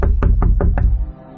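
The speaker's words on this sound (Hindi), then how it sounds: "किसी ने उनके शीशे पर दस्तक दी" Four sharp knocks rap on a car's glass window in a quick, even run, close and loud with nothing else around them.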